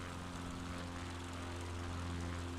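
A propeller airplane flies along in a video game, its engine making a steady, droning hum with a constant pitch that fills the whole stretch without a break.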